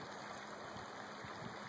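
Creek water rushing steadily along an eroded bank in Green Mountain Falls, Colorado, a constant broadband wash that stays even and unbroken throughout, fairly faint and heard alone.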